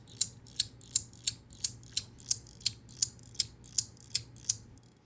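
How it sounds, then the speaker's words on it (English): Sharp magnetic clicks from the N52 magnet in a Leap by Proxy EDC fidget toy snap in a steady, even rhythm, about thirteen crisp loud clicks in a row, close up with no talk. "So that actually feels like a louder click, but let's compare it. So right now, this is the N52."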